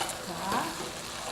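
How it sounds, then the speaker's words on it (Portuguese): Broth ladled into a pan of sizzling risotto with wine, giving a loud hissing fry with a brief bubbling surge midway, close and continuous through the short moment. "agora você joga uma colherada de caldo."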